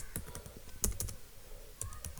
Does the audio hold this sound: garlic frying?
no